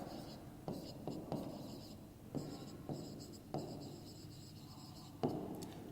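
Chalk or marker strokes on a classroom board during a math lesson, a series of short scratchy scrapes in bursts with brief pauses, heard up close while a teacher speaks quietly.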